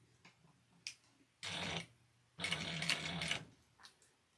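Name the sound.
sewing machine stitching leather with stitch length 4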